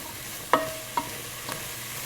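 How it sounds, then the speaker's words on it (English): Spices and vegetables cook in a pan with a faint steady sizzle, broken by two or three sharp scraping clinks of a utensil stirring against the pan, close by with no talking. "It's nice to kind of cook the spices with just the veggies before adding the liquid."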